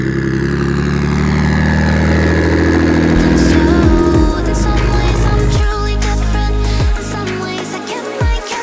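A BMW 135i fitted with a big 6670 Next Gen turbo revs hard and loud up close, engine pitch sweeping through several gear changes with brief dips between pulls.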